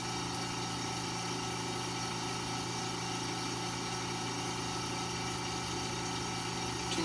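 A lab spinner used for cell morphology work runs at its programmed spin speed, giving a steady, even motor hum and whir with no change throughout.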